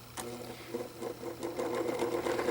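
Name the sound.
Windmere 12-inch oscillating fan running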